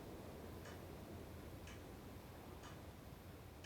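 A clock ticks slowly and evenly, three faint dry ticks about a second apart, sitting under a steady hiss of wind in a quiet, empty room.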